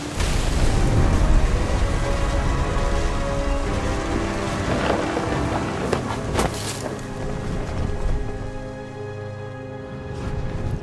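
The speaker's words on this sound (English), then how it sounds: "Thunder sounded much too close and full of angry power." A thunderstorm in the video game What Remains of Edith Finch, with steady heavy rain hissing throughout and several sharp thunder cracks and rolling rumbles breaking through, loud and close.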